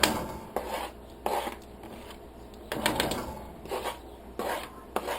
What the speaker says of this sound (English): And I'm going to put the garlic in there.